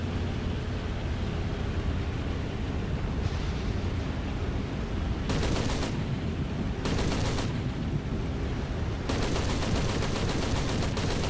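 A Nakajima Ki-27 fighter firing its machine guns in War Thunder, with three short bursts of rapid rattling fire over a steady engine drone. The last burst runs longer, about two seconds. No one speaks.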